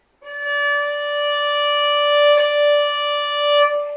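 A violin is bowed on the A string with the third finger placed right beside the second, producing a single clear, steady note sustained for nearly four seconds, close and alone.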